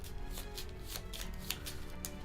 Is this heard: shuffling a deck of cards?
yes